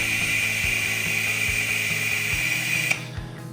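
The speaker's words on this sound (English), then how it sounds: "I just barely squeeze the trigger and it sucks the fluid through" A hand trigger pump draws brake fluid on a Harley FatBoy bobber build, a steady high whine under a run of rhythmic clicks from repeated trigger squeezes, which stop abruptly near the end.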